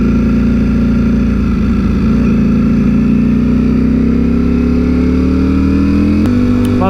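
A brand-new motorcycle still in its run-in miles cruises along with a steady, close engine drone whose pitch climbs gradually, then a brief shift in tone near the end, with no one talking.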